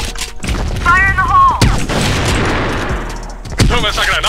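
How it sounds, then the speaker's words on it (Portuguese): Grenade blasts and gunfire in a tactical shooter video game, with sharp shots and booming explosions layered under a player's excited talk, loud and close. "Toma essa granada aí. Na janela."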